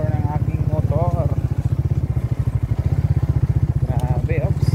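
A small motorcycle engine thrumming steadily and loudly close by while riding, with a rapid regular pulse throughout and a voice speaking over it.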